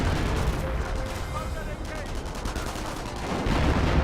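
From a Company of Heroes match, a Vickers machine gun chatters in rapid bursts beneath an artillery barrage of heavy booms and rumbling, as a voice talks over the battle noise.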